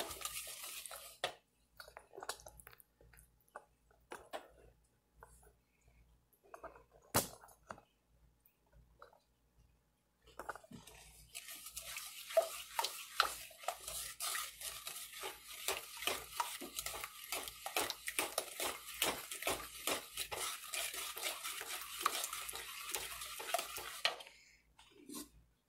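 A spoon scrapes and clinks rhythmically against a bowl while sweet potato casserole mixture is stirred. A few scattered taps come first, then a long steady run of quick, close stirring strokes.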